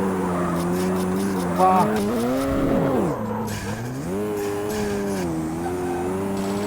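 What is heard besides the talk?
car crashing in Street Racing Syndicate video game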